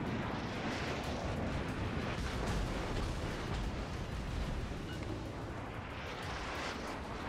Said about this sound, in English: now I'm gonna fire on the Yamagi